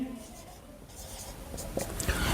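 Numbers being written by hand, pen or chalk strokes scratching in short irregular bursts, close and moderately loud, with a person speaking at points.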